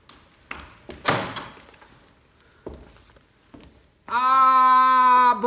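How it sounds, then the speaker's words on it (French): A heavy prison cell door opens with a few thuds and knocks, then a long, loud metallic creak and drone rings out alone at the end. "Quelques heures plus tard, la porte s'ouvrit."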